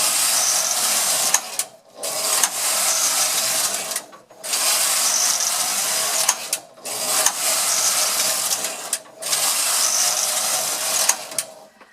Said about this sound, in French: je vais tricoter 6 rangs de rayures bleues